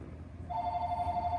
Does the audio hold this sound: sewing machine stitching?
no